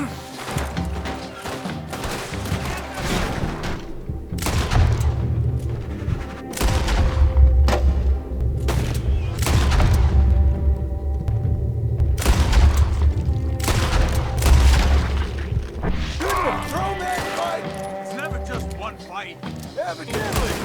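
Gunfire in a Red Dead Redemption II gunfight, loud repeated shots and booming blasts in a dense, steady barrage with people talking over it throughout.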